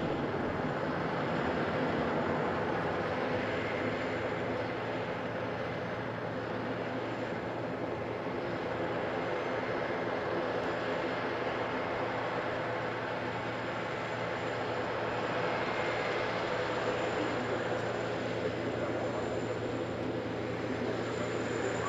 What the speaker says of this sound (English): most people's eyes are trained on the A350 and its flying display